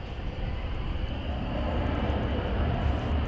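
Airplane taking off from a runway at DFW Airport, heard as a loud, steady, broadband engine roar that builds slightly over a few seconds, with no talking.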